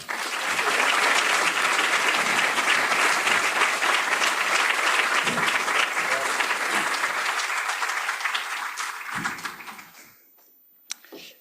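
An audience applauding to welcome Prime Minister Paolo Gentiloni at a university keynote lecture, dense sustained clapping that fades out after about ten seconds, leaving near silence and a faint tap.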